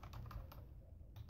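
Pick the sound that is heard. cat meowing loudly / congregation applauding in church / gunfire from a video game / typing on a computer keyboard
typing on a computer keyboard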